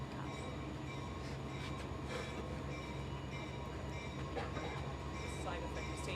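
Train passing slowly near an outdoor police briefing in Nova Scotia, a steady heavy rumble with humming tones and occasional wheel squeaks and clanks, faint voices mixed in underneath.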